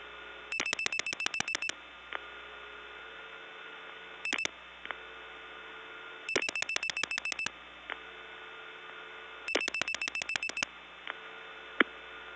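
Telephone dialing into the Gainesville, Georgia step tandem exchange in 1979: clustered bursts of rapid beeping tones repeat in four groups, separated by short pauses with a low steady hum and faint clicks, no voices.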